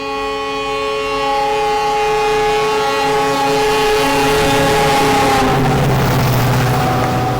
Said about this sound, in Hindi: तो रानीखेत एक्सप्रेस के साथ हमारी क्रॉसिंग हो रही है।